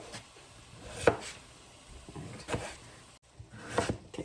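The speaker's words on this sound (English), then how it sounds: "I'm gonna finish cutting up this last potato" A knife chopping through a potato on a cutting board while slicing it thin for a spring soup, three separate soft thuds spaced a second or so apart, close and fairly quiet.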